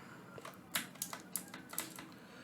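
Computer mouse clicks while designing a poster in Canva: a quiet cluster of sharp, close clicks and taps in an uneven rhythm over soft room hiss, with no talking.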